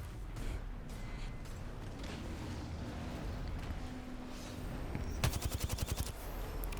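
A rapid burst of automatic gunfire from an Apex Legends match cracks out near the end, about a dozen quick shots over steady game ambience.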